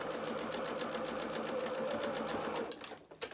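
A sewing machine runs a short, fast burst of stitches across lace on a doll dress, its rapid mechanical whir steady and close before stopping abruptly near the end.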